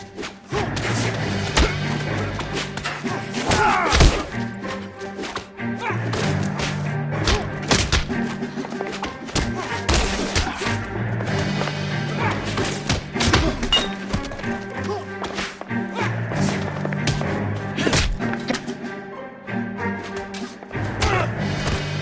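Dull fist punches land in a brawl during an arrest in the video game L.A. Noire: a steady run of thuds and whacks over a busy game soundtrack, with voices talking now and then.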